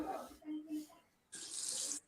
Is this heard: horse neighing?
no